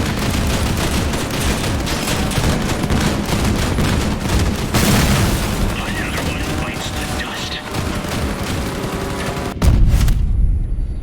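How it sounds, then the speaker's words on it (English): Grenade blasts and gunfire in Crossout, the vehicle combat game, a dense, loud barrage of rapid shots and booming explosions with a heavy hit near the end, with a voice talking over it at times. "Somebody's tossing grenades here."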